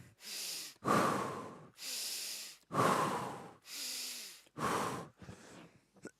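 A person taking deep, forceful breaths during a breathing exercise, a steady rhythm of about six long airy inhales and exhales, close and clear with short pauses between them and no talking.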